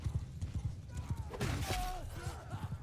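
Rapid rhythmic hoofbeats of horses galloping in a cavalry charge in Mount and Blade 2 Bannerlord, with a whinny and clashing battle noise in the middle, moderately loud and continuous.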